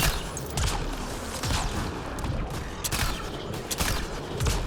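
Pistol gunfire in the video game Mass Effect: Andromeda, a series of sharp shots at uneven intervals, about six over a few seconds, mixed with mechanical clicks and a steady game background.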